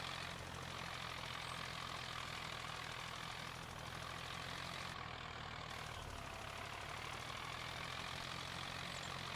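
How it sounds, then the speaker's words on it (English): A tractor engine labouring slightly uphill across a potato field in Farming Simulator 25, a continuous low droning rumble held steady and fairly loud throughout. "Going slightly uphill with this tractor on a potato field is not the wisest course of action."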